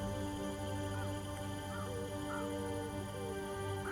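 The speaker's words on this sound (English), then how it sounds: "And right there's the bird that shall signal the fruitful harvests that are to come" In the god-sim video game Liftlands, a bird caws a few times at moderate distance over a steady, dense background of game music and ambience, with no talking.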